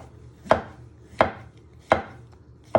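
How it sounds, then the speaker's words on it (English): A knife slices mushrooms into pieces on a cutting board, giving four crisp, evenly spaced chops that land close and clear about every seven-tenths of a second with quiet between them. "You first want to start off with your mushrooms and you just want to slice them into pieces like that."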